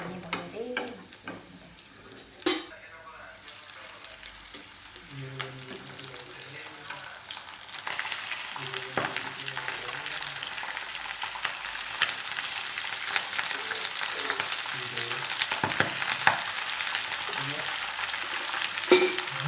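Local chicken meat drops into a hot pan and breaks into a loud, steady sizzle that carries on to the end, with occasional stirring scrapes and clanks, after quieter kitchen clatter at the start.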